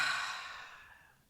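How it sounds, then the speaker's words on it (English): Long, audible exhale of a deep breath during a calm breathing exercise, a single soft breathy rush that starts fairly loud and close and trails off to quiet. "I'm going to actually take a nice inhale"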